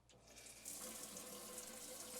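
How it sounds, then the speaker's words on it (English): Hot water running from a motorhome shower in a Globecar Summit 600 campervan, a steady close splashing rush that swells after a quiet start and keeps flowing evenly. "and you've got your shower coming through there."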